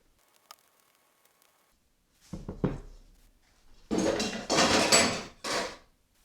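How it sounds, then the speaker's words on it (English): A casserole dish is handled while shortbread batter is turned out into it: scattered soft clinks, then a cluster of scraping knocks and a few louder rough scrapes and bumps up close, with no talk. "So now you want your casserole dish, and we're going to turn this out into the casserole"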